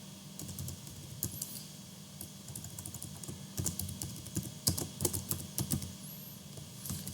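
Keys on a computer keyboard tap in irregular clusters while Python code is typed. The keystrokes are soft and close over a low background hum, and they grow busier toward the middle.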